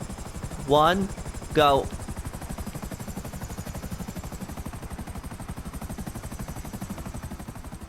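Helicopter rotor chopping steadily throughout as the Akula and Hunter helicopters fly in GTA, with a voice counting down over the start and steady rotor beat continuing alone.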